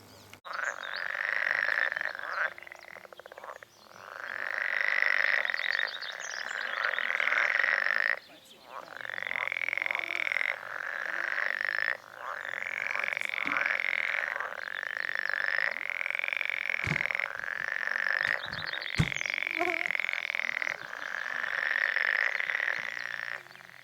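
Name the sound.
frogs croaking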